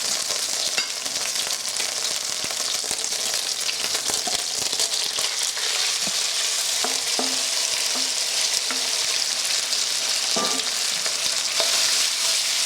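Beef stir-frying in a pan over very high heat gives a continuous loud sizzle, broken by scattered clicks and scrapes of stirring.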